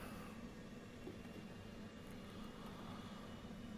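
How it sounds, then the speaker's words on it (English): A jet's left engine cranking up in the DCS World flight simulator, likely the Phantom, a steady dense roar and hum holding evenly throughout with no talk. "Standby, left engine crank."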